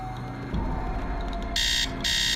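In the Nancy Drew game The Secret of the Scarlet Hand, an alarm clock rings as two loud, harsh buzzing bursts over a low background hum, with no talking.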